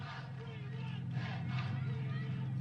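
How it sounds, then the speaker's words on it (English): A home crowd cheers for Nepal at a women's T20 cricket qualifier against Zimbabwe, a steady, distant roar of many voices that holds at an even level for the whole stretch. "Look at that crowd there. Cheers for Nepal."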